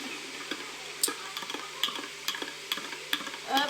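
Dry pasta goes into a cooking pot in a home kitchen, making a scatter of light, close ticks and small clatters spread over a few seconds. The sounds are soft and come in irregular bursts, with no talking.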